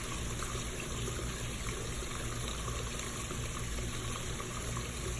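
Steady running water pours continuously and fairly loud, a constant full-band rush with no pauses and no voices over it.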